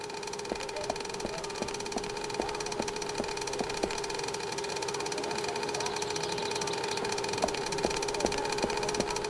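Steady mechanical engine drone from a video game, with a low idling rumble and periodic clicking knocks repeating in a rhythm, heard alone at moderate level throughout.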